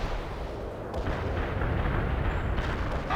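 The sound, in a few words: artillery strike explosions in the video game World in Conflict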